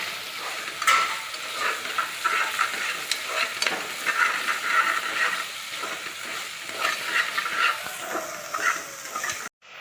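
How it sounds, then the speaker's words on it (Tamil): Shallots sautéing in a pan for home-made biryani give a steady, loud sizzle with stirring scrapes, then cut off abruptly at the end. "நீங்கள் சின்ன வெங்காயத்தை ஆட் பண்ணிக்கணும். அதை சேர்த்து நல்லா வணக்கணும்."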